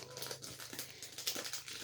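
Foil packs from a 2020-21 Panini Mosaic basketball blaster box are torn and crinkled open at close range, a steady papery rustle with a few sharper rips and a low hum underneath.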